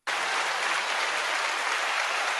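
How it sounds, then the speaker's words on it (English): A studio audience at a happy hour talk show bursts into dense, loud applause all at once, and the clapping holds steady without pause. "I'll give her an applause"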